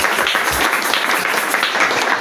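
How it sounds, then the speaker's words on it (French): A church congregation applauds and cheers for Jesus during a French-language worship service, a dense, steady wash of clapping from a large crowd that fills the hall and carries continuously throughout. "Est-ce qu'on peut acclamer royalement pour notre Jésus?"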